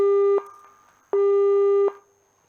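Busy tone on a failed phone line call: two long, loud steady beeps with a gap of near-silence between them, clean and alone with no voices.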